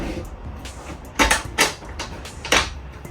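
The storage compartment latch in a 2026 Winnebago RV bunkhouse gives several sharp clacks and clunks, spaced about a second apart, close to the mic over a low background, with no talking.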